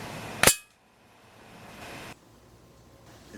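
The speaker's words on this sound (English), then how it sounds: "I'm just going to fire the previously shown pellets" A Benjamin Marauder .22 air rifle fires a single pellet at a Coleman can, a sharp close crack followed by a quiet, hissing tail and low background noise.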